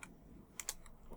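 A few soft, separate keystrokes on a keyboard entering commands at a game's command prompt, faint and sparse, with no voices.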